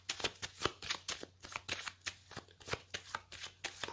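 A tarot deck is shuffled and cut by hand, producing a fast, steady run of crisp card riffles and slaps, close and clear, with no voices.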